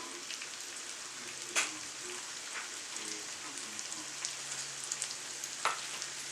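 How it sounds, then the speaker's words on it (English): Beef birria quesatacos in folded tortillas fry in a pan with cheese inside, giving a soft, steady sizzle and crackle with a few sharper pops, fairly quiet. "so these can get fried on each side. And we're just going to fry it a little bit"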